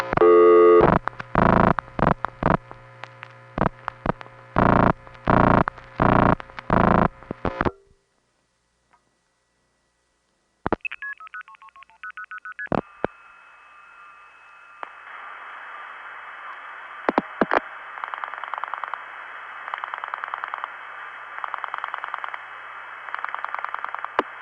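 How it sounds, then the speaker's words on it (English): Long-distance telephone calls to Alberta routed through Hempstead and Calgary crossbar tandems and a White Plains 4A switch: a run of rapid, regular clicking pulses, a pause of silence, then a steady tone and switching clicks followed by a sustained buzzing line tone. "Here now are 2 calls to Alberta which take the following route: Hempstead crossbar tandem, White Plains 4A, Calgary crossbar tandem, 4032"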